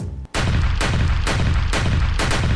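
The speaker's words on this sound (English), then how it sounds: "Shots fired." A rapid series of loud, sharp gunshot blasts, about five booming reports in quick succession after a brief hush, with no voices.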